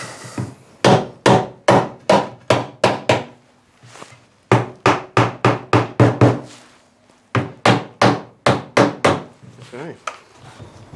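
Repeated hammer taps on a glued timber casement window joint fitted with dominoes, sharp woody knocks in three quick bursts of about eight to ten strikes each, close and loud, with brief pauses between runs.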